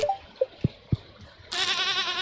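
Goats in Stardew Valley bleat in a short wavering cry near the end, after a few faint blips and soft thumps from the farm.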